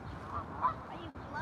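Geese give a couple of faint, distant honks over a low, rumbling outdoor background, brief calls rising slightly from the murmur.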